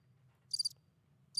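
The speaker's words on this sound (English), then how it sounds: "These are the crickets." Crickets chirp in two short high-pitched bursts about a second apart, faint and isolated over a low steady hum.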